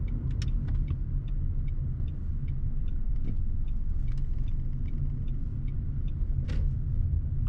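A car drives through a suburban street in Saint-Germain-en-Laye and downshifts before turning right at an intersection. A steady, close engine rumble runs throughout at an even level, with a few faint clicks and ticks over it.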